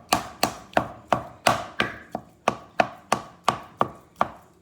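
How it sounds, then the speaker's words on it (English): Mince for chilli con carne being chopped in a pot, about thirteen crisp, close strikes in a steady rhythm, each ringing briefly before the next. "break up the mince as it says in the instructions. I chop it."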